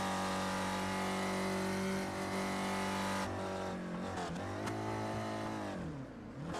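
A race car engine roars loudly and steadily in iRacing at Bathurst, holding a high pitch and then dropping and rising again as the driver loses the front end over a crest.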